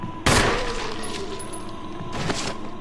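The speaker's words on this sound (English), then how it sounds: "I shot him one more time." Two gunshots fired at a zombie in Resident Evil Remaster, a sharp loud blast followed about two seconds later by a second, slightly softer shot, each with a short reverberant tail over steady game ambience.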